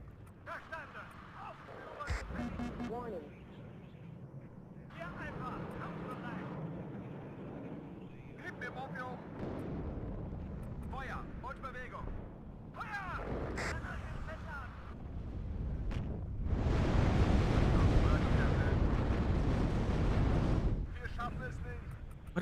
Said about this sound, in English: Where's my mortar spam? There's my mortar spam.